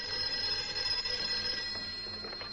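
A 1950s telephone bell ringing in a house, a sustained, bright metallic trill that fills the moment with no voices over it.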